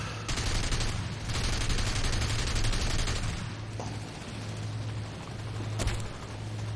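Sustained automatic gunfire from a tank in War Thunder, a rapid loud rattling burst running several seconds with brief pauses and a couple of sharper cracks, over a low engine hum, no speech.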